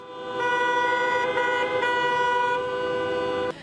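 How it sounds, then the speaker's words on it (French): Car horns from Donetsk motorists honking in protest sound as one loud, steady blare held for about three seconds, a dense chord of overlapping tones that stops abruptly. "les automobilistes de Donetsk qui ont utilisé leur klaxon en signe de"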